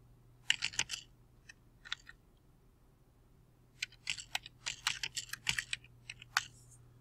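Typing a program comment on a computer keyboard, quiet close clicks coming in two clusters: a short flurry of keystrokes, then a pause of about two seconds, then a longer run of taps over a faint steady hum.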